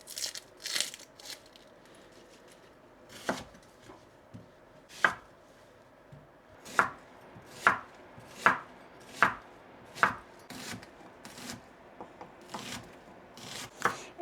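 Onions are chopped with a kitchen knife on a board in a home kitchen, the blade landing in close, crisp, irregular knocks that speed into a fairly even rhythm and then slow again.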